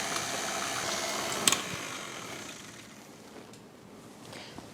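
An electric mixer beats cream into homemade butter with a continuous whirring, sloshing churn that holds steady and then softens, broken by a brief clatter partway through.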